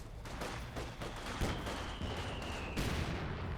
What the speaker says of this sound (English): the Puma does use a MG42 sound effect